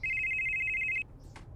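A steady electronic phone ring buzzes loudly for about a second, then cuts off abruptly, leaving a faint background and one brief chirp near the end.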